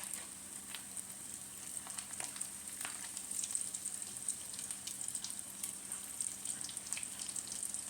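Vegan crab cakes sizzle steadily in a frying pan, a soft constant crackle with scattered small pops and clicks as they are turned.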